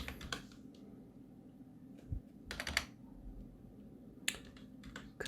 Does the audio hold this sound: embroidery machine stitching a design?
no